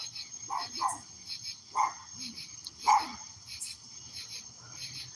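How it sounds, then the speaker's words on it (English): A dog barks several times nearby at night, sharp single and paired yaps spread irregularly over a steady background of chirping insects and frogs. "now I hear a dog and I'm scared of dogs"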